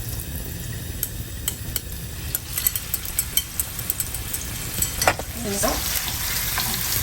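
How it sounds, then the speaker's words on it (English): Meat filling for Chinese won ton and yuk sung fries in hot oil in a pan, giving a loud, close, steady sizzle with crackling pops and a burst of stirring, while a voice briefly speaks. "The oil is quite hot now, so I'm just going to put the meat mixture"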